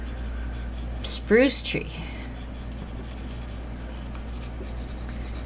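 A pencil scratches steadily across paper during a children's gesture drawing lesson, a soft continuous rasp that runs under a brief spoken phrase.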